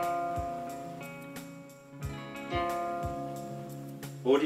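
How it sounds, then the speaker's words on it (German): A nylon-string guitar's G string plucked repeatedly during tuning, soft single notes ringing and fading with small knocks between them, quiet and close, with a brief brighter noise at the end. "Die nächste Seite, es kommt in Nylon-Seite hier bei meiner Gitarre, müsste ein G sein."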